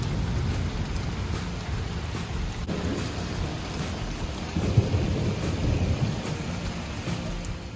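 Steady rain falls over a garden with low rolling thunder rumbling beneath it, swelling louder near the middle and continuing through the whole stretch with no voices.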